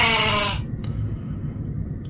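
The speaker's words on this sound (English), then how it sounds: "Oh, there's a billy goat." A billy goat bleats loudly up close in one long wavering call at the start, followed by steady low rumble and background noise with no talking.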